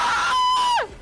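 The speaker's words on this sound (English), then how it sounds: "That scream is so loud." A loud, piercing scream from a stream alert, a single sustained high shriek held for most of a second before dropping sharply away, alone with no talking.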